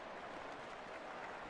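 A video-game stadium crowd in EA Sports CFB 27 cheers a punt return, a faint, steady wash of applause and crowd roar with no distinct voices.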